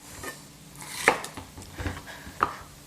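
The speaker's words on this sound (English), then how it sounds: "Green pepper, cut off the top." A knife chops through a green pepper on a board, a few sharp cuts with scattered knocks and clinks of utensils, close and fairly quiet.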